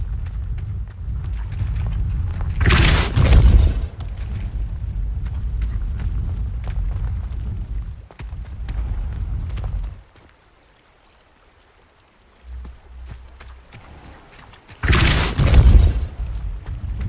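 Incendio and Compulso spells blast in Hogwarts Legacy: two loud, sudden bursts several seconds apart over a steady rushing background, with a brief near-silent gap between them.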